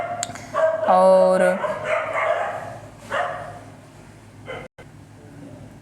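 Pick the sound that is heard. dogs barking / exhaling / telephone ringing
dogs barking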